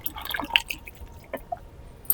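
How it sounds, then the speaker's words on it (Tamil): Fermented buttermilk and oil-cake fertilizer solution poured onto a newly planted orange Bangalore rose, giving soft, close drips and wet splashes in short irregular bursts against a quiet outdoor background. "இதுதான் இப்போ நான் அந்த செடிக்கு ஊற்ற போகிறேன்"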